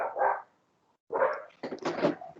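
Dogs bark in several loud, close bursts, a short pause separating the first bark from a quick cluster of yelping barks.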